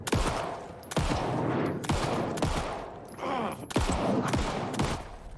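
Rifle fire in Alan Wake II, with loud sharp shots cracking one after another at roughly one-second intervals, each trailing off into a ringing echo.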